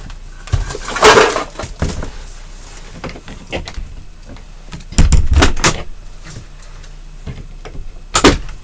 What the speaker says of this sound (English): Whoops, I pushed the door open.